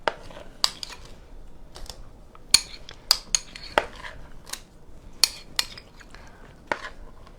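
Pumpkin spice bar batter is swirled with a utensil, giving light scattered clicks and scrapes against the pan at an irregular pace, quiet and close, with no talk.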